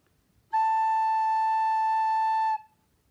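A single sustained recorder note A, clear and pure, held steadily for about two seconds after a short quiet lead-in, then stopping cleanly into near silence.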